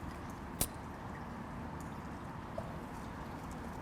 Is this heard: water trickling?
yes